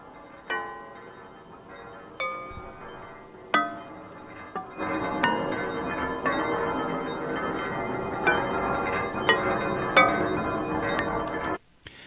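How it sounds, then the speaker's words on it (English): Percussive noise layers from a Korg Wavestate synthesizer: a few sparse bright metallic pings at first, then a denser shimmering wash of clinking, bell-like hits over a sustained bed, cutting off abruptly at the end. "the other 2 layers, B and C, are playing these kind of percussive noises"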